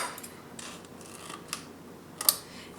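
Scissors snip through repositionable wallpaper trimmed from a faux marble vase, several short crisp cuts spaced irregularly, close and fairly quiet, ending in a sharper final snip, with no voices.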